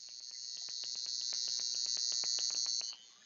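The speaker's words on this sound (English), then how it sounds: "now I'm going to turn this back on, and let me know if you hear the buzz" Violet wand giving off a thin, steady high electrical buzz with rapid regular crackling pulses as its dial is turned up, fairly faint and close, then dropping away abruptly near the end.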